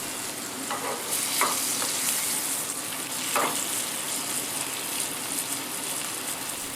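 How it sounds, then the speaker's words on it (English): A wagyu beef steak, lightly salted, sizzles in butter in a frying pan, producing a steady bright hiss with occasional soft crackles and spatters, close and continuous. "Slightly salted, pan-fried in butter."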